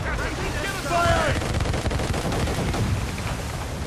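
Ship cannon and mortar fire during a naval battle in Assassin's Creed Rogue, a dense, continuous rumble of booming shots amid battle noise, with brief shouted voices over the din.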